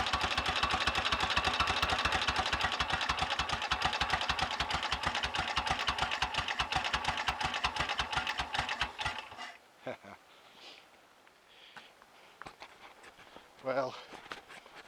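A 1930 Royal Enfield Model K motorcycle with a rebuilt 1000 cc engine runs steadily with a loud, even, rhythmic thud for about nine seconds, then cuts off, leaving faint quiet handling noises and a brief clatter.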